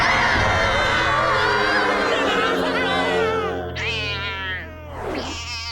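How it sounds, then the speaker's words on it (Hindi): A cartoon giant cat gives drawn-out, wavering meows, loud and close, with rising and falling wails toward the end over a murmuring crowd-like background. "एक जायंट बिल्ली की आवाज।"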